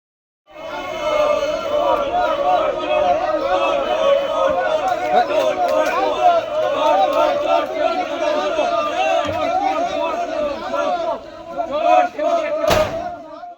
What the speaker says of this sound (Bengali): বিজেপি কর্মীরা তাকে লক্ষ্য করে ডিম ছুঁড়ে চোর চোর স্লোগান দেন